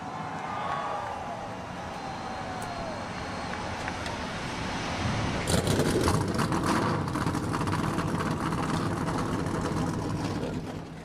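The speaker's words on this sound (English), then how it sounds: "Drivers, start your engines." Race car engines fire up together in NASCAR Racing 2003 at the Charlotte All-Star Race, a sudden loud rumbling roar that starts midway and holds steady over crowd ambience.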